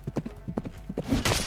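A warhorse gallops through combat in a fantasy tabletop battle, its hooves clip-clopping in quick rhythmic beats that build to a louder, denser pounding with a brief whinny-like burst near the end.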